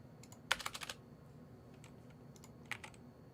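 Computer keys clatter in a quick burst of about half a dozen soft taps, then fall quiet before a few scattered single keystrokes follow, faint and close in a still room.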